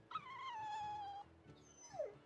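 Dog whimpering in the video game Tales of Berseria: a long falling whine, then a brief pause and a shorter descending whimper, faint over quiet background.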